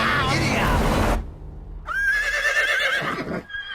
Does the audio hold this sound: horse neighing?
yes